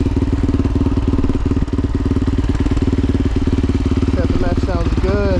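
A Kove 450 Rally motorcycle idles in neutral with a steady, rapid exhaust thump that holds close and loud throughout. A voice briefly comes in over the engine near the end.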